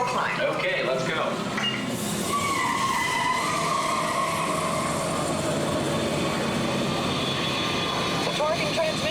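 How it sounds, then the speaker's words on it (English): A Test Track ride vehicle at EPCOT sets off on its hill climb with a loud, continuous roar of rushing motion and tire noise, while voices talk faintly underneath. "Vehicle 1 is clear for hill climb."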